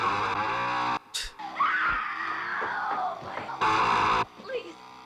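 A woman screams in terror in The Texas Chainsaw Massacre (1974), long piercing shrieks broken by short gaps, loud and raw, with film noise and movement under them.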